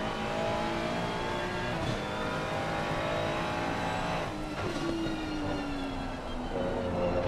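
Race car engine from the Assetto Corsa Competizione game in a GT3 event at Imola, droning loud and steady throughout with a pitch shift as the car loses grip, no talk over it.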